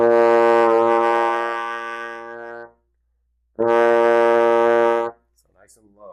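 Two loud, close, sustained low F notes come from a trombone in first position with the slide all the way in; the first lasts over two seconds, the second about one and a half, a brief voice following at the end.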